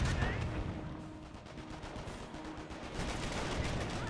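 Calliope rocket barrage striking infantry squads in Company of Heroes, a dense run of explosions and gunfire rumbling continuously with some faint voice beneath.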